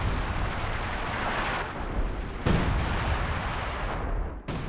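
Artillery firing into fog in the World War II strategy game Company of Heroes 2: a constant roaring battle rumble with two sharp booming shots, one midway and one near the end, and no talking.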